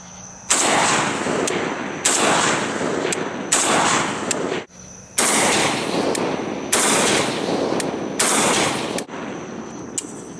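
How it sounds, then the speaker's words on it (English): A Zastava M85 PAP 5.56x45 AK pistol fires outdoors at night, about seven or eight sharp, loud shots or short bursts spaced roughly a second apart, each with a blast that rings out before the next. "we're going to go ahead and put a few rounds through it and see what kind of blast we get"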